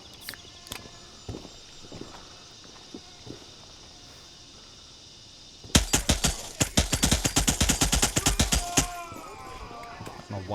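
Rapid bursts of video game gunfire ring out loud and close for about three seconds, dense repeated shots after a quieter stretch of footsteps and faint movement, with players talking over the action.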